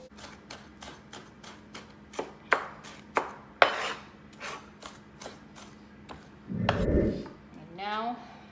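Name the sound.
chopping Roma tomatoes with a knife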